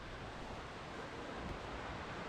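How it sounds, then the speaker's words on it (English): At night, the River Westwater rushes past the Dunlappy Beat near Brig in Scotland, a steady, unbroken roar of water with no voices. "I can hear the river roaring, but it's too dark really to see."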